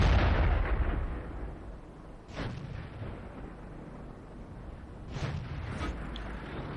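Tank cannon fire in the World of Tanks game with an Indien-Panzer Tier 8 medium tank: two heavy booming shots a few seconds apart over a constant low engine rumble.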